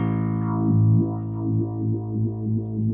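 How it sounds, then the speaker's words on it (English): A 1993 Made-in-Japan Ibanez SR1305 bass guitar played with its mid control boosted fully and swept, giving a wah-like vocal sweep over sustained low notes, close and steady with no talking. "I'll boost the mid all the way and play with the mid control so you can hear how it."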